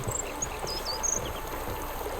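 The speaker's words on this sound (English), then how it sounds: "I also have a river?" Flowing river water in The Witcher 3: Blood and Wine, a steady soft stream trickling throughout, with faint high birdlike chirps above it.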